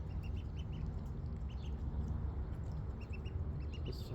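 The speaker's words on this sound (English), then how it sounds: "This duck has been trying to wobble into the water for a bit." A duck quacks in short repeated bursts beside the water, moderately close and clear over a constant outdoor rumble, with no talking.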